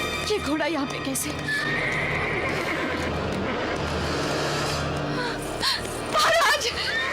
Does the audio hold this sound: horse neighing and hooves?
yes